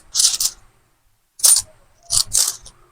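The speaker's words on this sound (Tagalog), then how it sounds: "Kuha ko ng barya." Coins are handled and jingle in bright metallic bursts, three quick clinking clusters close by with brief silent gaps between them.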